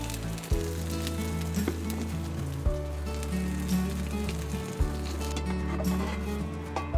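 A vegetable suji pancake fries in ghee in a pan, giving a steady soft sizzle with a few sharp clicks and taps, while a low tonal hum runs underneath; no one speaks.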